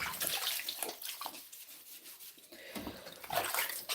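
Hands swish and rub produce, such as spinach, in a basin of water, with soft splashing and trickling in uneven bursts, fairly quiet and close, no talking.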